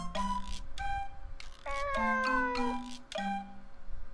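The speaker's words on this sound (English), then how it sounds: "A cat?" A cat meows repeatedly in the visual novel game If My Heart Had Wings, with several drawn-out tonal meows over an ongoing music bed, clear and steady.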